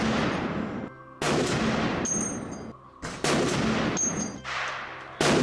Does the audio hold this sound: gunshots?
yes